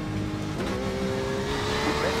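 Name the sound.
Porsche 911 RSR race car driving past, from iRacing video game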